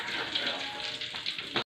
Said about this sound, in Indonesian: cakwenya lagi kita goreng tuh, mekar dia digoreng ya